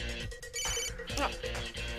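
A telephone rings in repeated bursts of electronic trilling, moderately loud, with people talking around it.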